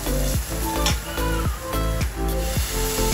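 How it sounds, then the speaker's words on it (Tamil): Crushed ginger and garlic sauté in a pan for a zucchini sabzi, with a continuous close sizzle and rhythmic scraping strokes of a spatula stirring at roughly half-second intervals. "இப்போ இஞ்சி பூண்டோட பச்சை வாசம் போகிற வரைக்கும் இதை நல்லா வதக்கிக்கலாம்."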